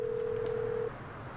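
An in-game phone call to Lester in GTA 5 Online plays a single steady electronic tone lasting just under a second over a low background hum, then cuts off.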